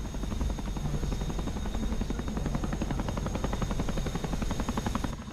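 A helicopter in the DCS World flight simulator thumps with steady, fast rotor chop at close range, loud and continuous throughout with no voices.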